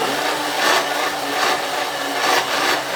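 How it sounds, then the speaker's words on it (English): A blender whirs steadily as it grinds nuts, a loud continuous motor roar with slight rhythmic surges, heard alone. "So I put a little more nuts in there, and then we're just going to blend it"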